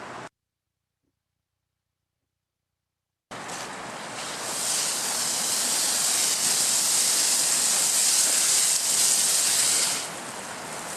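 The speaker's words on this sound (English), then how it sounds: "We turn the water on." Water pushed through equipment for injecting into a coal hot spot rushes on after a few seconds of silence, a loud steady hiss that swells and holds before easing slightly near the end.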